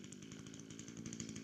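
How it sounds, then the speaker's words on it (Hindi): A large drilling machine bores big holes in the ground on a farm, making a steady, loud motorized grinding drone with a pulsing rhythm that continues throughout without talk. "ड्रिलिंग मशीन से ये पहले होल्स कर रहे हैं बड़े बड़े"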